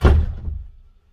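A door swings shut with a single heavy thud that rings out and dies away over about a second, close by, with no voices.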